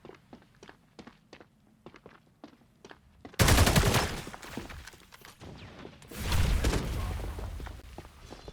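Hip-fire gunshots in the video game FragPunk during a competitive match: light footstep-like ticks first, then two loud, sustained bursts of rapid automatic fire, close and dense, with no talk.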